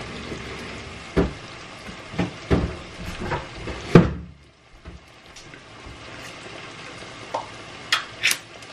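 Corned beef and potatoes cooking in a home kitchen pan, with a few scattered sharp stirring scrapes and clinks against the pan over a faint background sizzle, fairly close, with no talk.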